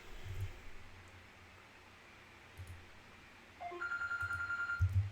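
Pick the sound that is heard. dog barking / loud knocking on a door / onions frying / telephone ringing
telephone ringing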